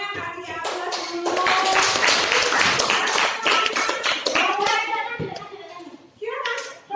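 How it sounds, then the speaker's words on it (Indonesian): A classroom group of students claps together in a brisk, sustained burst of applause lasting several seconds, mixed with children's cheering voices, then tapering off into chatter. "dari kelompoknya kasih aplaus dulu."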